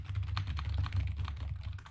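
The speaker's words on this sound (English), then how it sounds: "Sorry, just some nice keyboard ASMR for those." Typing on a newly bought computer keyboard, a steady run of quick key clicks for about two seconds, close and moderately loud over a low background hum.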